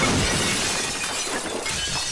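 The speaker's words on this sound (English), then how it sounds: "It's just Charles passing through the mirror and breaking it" A mirror shatters in a film scene with a loud, dense crash of breaking glass that spreads into a sustained splintering clatter, close and alone, without talk.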